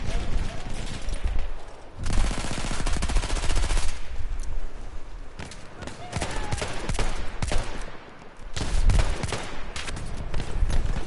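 Model 10 gunfire in the video game Battlefield 1, loud sustained bursts of rapid shots that keep overlapping across the whole stretch, with a voice talking at times underneath.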